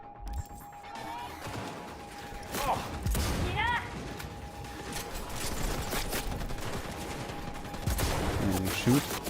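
Gunfire and impact bangs in the video game Cyberpunk 2077 during a fight against MaxTac and police, irregular sharp shots and crashes mixed with game effects, fairly loud, with a voice talking over them.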